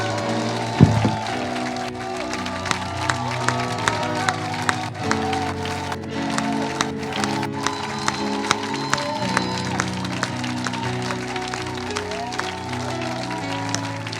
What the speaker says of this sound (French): acclamer très fort le Seigneur pour la présence de son esprit